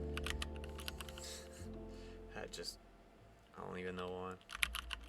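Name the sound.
typing on a computer keyboard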